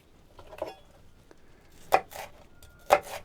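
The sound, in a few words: knife slicing food on a cutting board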